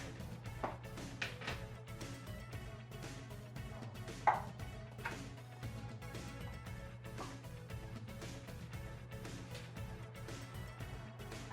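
Spam luncheon meat sliced with a knife on a cutting board, a long run of quick, close chopping taps, fairly soft, with one sharper knock partway through and a low steady hum underneath.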